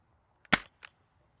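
An XYL Tactical Edition dart blaster fires one sharp, close snap, followed a moment later by a softer secondary click, otherwise quiet.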